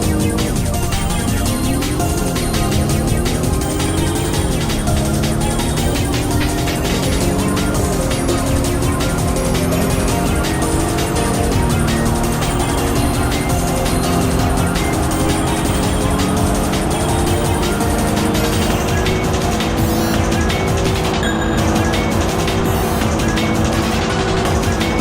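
A 2006 Honda Pilot (Chief trim) accelerates in a straight line in the Roblox game Greenville, its loud engine rising in pitch through several gear shifts, then droning steadily at high revs with no speech.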